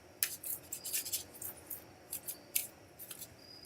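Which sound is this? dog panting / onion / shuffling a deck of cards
shuffling a deck of cards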